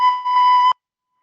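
A recorder sounds the note B as one steady, clear tone lasting under a second, with slight breathy pulses at the start, then silence.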